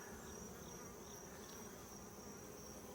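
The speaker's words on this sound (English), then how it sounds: "I got one buzzing in my ear now." Honey bee buzzing right beside a beekeeper's ear, a close, steady, continuous hum at low volume with no voices.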